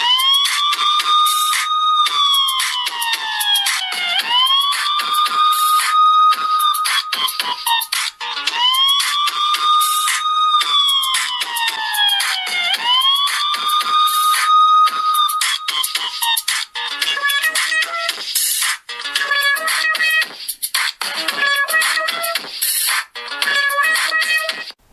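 A loud siren-like ringtone plays from Redmi Note 8 and Meizu Note 9 phones, rising and falling sweeping wails repeating in cycles, then choppy bursts of electronic tones, bright and close with no talking.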